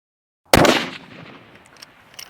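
A single loud rifle shot fired at a long-range target, a sharp crack after a moment of silence, trailing into a decaying echo with faint clicks afterward.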